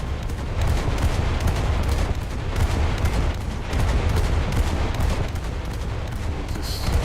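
Naval guns on a ship firing steadily over a calm, flat sea, a dense continuous barrage of rumbling booms that pulses in bursts throughout, loud and close with no talking.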